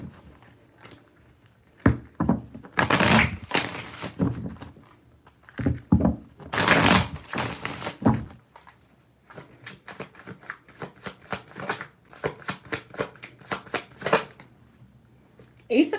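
Tarot cards are shuffled close up, with riffling bursts of card flutter and fast clicking cascades of cards slapping together, repeated over several rounds without pause.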